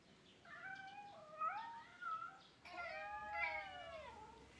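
Cats meowing outside a house, several drawn-out, wavering meows and caterwauls in a row, moderately close but fairly quiet, with no talking.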